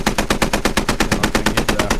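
Automatic gunfire in a video game match, a sustained burst of rapid, evenly spaced shots that is loud and close and fills the whole moment with no voices.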